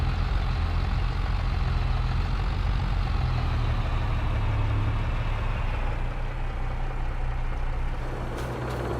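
A tractor engine idles in Farming Simulator 22, a steady, close low rumble with a constant mechanical drone that stays even throughout and only eases slightly near the end.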